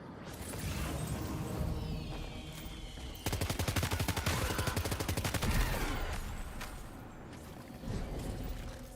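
A rapid burst of automatic gunfire from the video game Death Stranding 2 rattles for about two seconds, a fast even string of close, loud shots, with scattered game sounds before and after.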